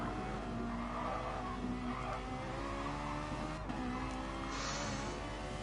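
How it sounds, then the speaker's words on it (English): A BMW touring car slides during a DTM race at Nürnberg, its tires squealing over a steady, loud engine drone that holds throughout with no talk. "Ooh, that BMW is sliding."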